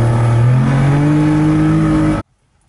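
A DKW Vemaguete with a water-cooled, front-mounted two-stroke engine and front-wheel drive, revving loud and close with a buzzy, rising drone held for about two seconds before cutting off abruptly into near silence.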